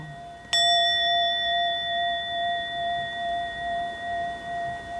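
A single bell is struck once and rings out clearly, its bright tone decaying slowly with a gentle pulsing shimmer in a quiet room, no voices present.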